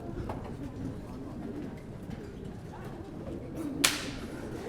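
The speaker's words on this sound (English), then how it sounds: "We had whip crack. Where's that? Let's hear that." A whip crack, the slapstick percussion instrument, snaps once sharply near the end amid the murmur of a school band spring concert audience and stage bustle.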